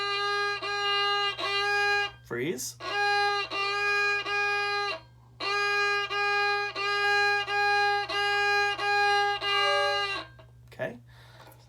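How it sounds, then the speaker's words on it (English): A violin is bowed on G, with three fingers down on the D string, in a repeated rhythmic bowing pattern of short clear strokes in two phrases separated by a pause. A voice briefly speaks a single word between them. "We're putting 3 fingers down on the 3 pieces of tape, okay, on the D string. That gives us G."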